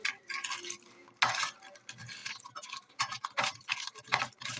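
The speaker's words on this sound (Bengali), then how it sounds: "এবার এগুলোকে ভালো করে মাখিয়ে নেব।" Raw sea crab is worked together with ginger and garlic paste, dried red chili paste and turmeric, giving close, irregular wet squishes and small clicks of shell and utensil, with no one talking.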